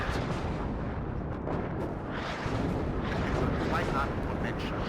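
Artillery in the WARNO wargame: a dense, continuous rumble of distant booms and bursts rolling together, steady and fairly loud, with a voice faintly under it.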